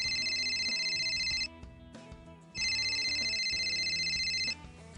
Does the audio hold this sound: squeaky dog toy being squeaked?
no